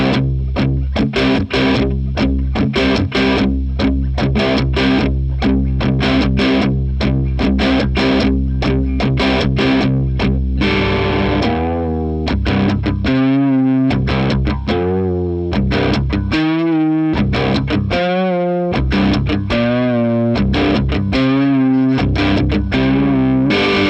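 A guitarist plays a riff on a distorted electric guitar at half volume, heavy chugging chords giving way to ringing sustained notes with wavering bends, loud and alone.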